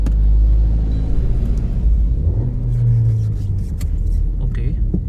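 A Toyota Glanza V MT petrol hatchback engine hums in a low, steady rumble from inside the cabin while driving, with a brief rise in pitch partway through and a few light clicks and knocks near the end.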